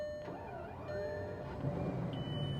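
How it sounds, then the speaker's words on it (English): Bugatti Veyron W16 engine cranking and catching, a rising start-up note that settles into a steady low idle rumble, close and moderately loud, with no talk over it. "And that fires up that W16 engine."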